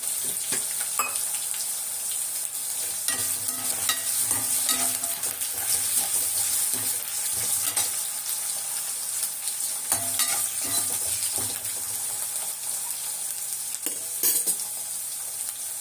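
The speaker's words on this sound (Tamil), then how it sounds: "உருளைக்கிழங்கு வந்து நல்லா வேகணும், அதுலேயே எண்ணெயிலே வேகணும்." Potatoes frying in oil in a home kitchen pan, a steady close crackling sizzle with repeated stirring scrapes throughout, no talking.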